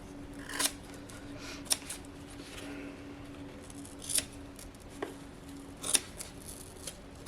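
Scissors snip through excess material while a shaman drum is assembled from a kit, several distinct close cuts spaced a second or two apart against a quiet room background.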